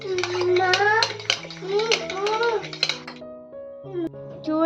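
Two eggs beaten in a bowl with a fork for a spinach omelette, giving a quick rattling clatter of metal against the bowl under continuous nearby talk.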